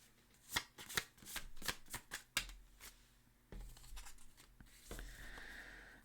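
Tarot cards being shuffled by hand for a reading, a run of crisp riffling snaps and flicks followed by softer continuous sliding and rustling of the deck, close and alone without talk.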